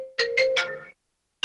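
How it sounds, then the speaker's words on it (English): A mobile phone rings during an online board meeting, playing a short rising melodic ringtone of three quick tones, fairly loud and close, then breaking off into silence before a single tone starts again. "I know someone's phone's ringing"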